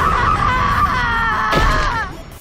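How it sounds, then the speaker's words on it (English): Loud, strained screaming from a character fighting in the video game Tales of Berseria, one sustained cry that wavers and rises briefly near the end before trailing off, with combat noise beneath it. "again, a lot of screaming in this game"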